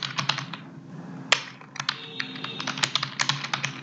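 Rapid computer keyboard typing while code is entered for a Java database project, a steady run of close, crisp key clicks with brief pauses and a few louder keystrokes, no talking.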